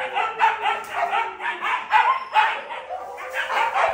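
A lively dog barks and yips among its pack mates indoors, with a busy run of short, sharp yaps and whimpers that stay close and fairly loud throughout.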